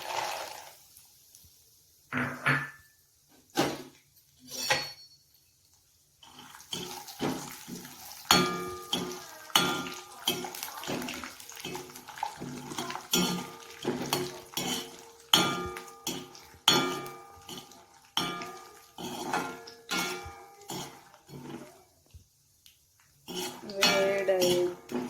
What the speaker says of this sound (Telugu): ఆయిల్ వేడయ్యాక శనగింజలు వేద్దాం.